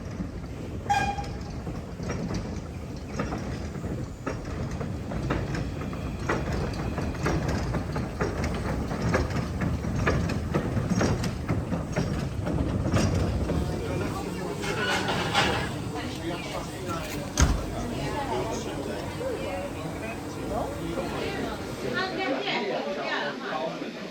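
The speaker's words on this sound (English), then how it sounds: "our locomotive and carriage slowly make their way to the platform" The Snowdon Mountain Railway locomotive and carriage roll slowly, a steady low engine rumble and rail noise continuing throughout, loud and close, with people chattering in the background.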